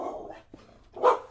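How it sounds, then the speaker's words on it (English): A dog barks indoors, a couple of short, moderately loud barks with a brief pause between them, heard alone without talking. "My apologies on the dog there."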